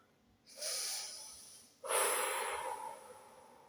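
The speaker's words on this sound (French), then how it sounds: "Inspire et expire." Two slow, close, airy breaths, a long inhale followed by a stronger exhale, hissing softly against near silence in a guided breathing exercise.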